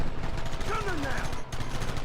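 Gunfire in the Western video game Red Dead Redemption, a dense stream of rapid shots running steadily throughout, loud and continuous, with brief game voices mixed in.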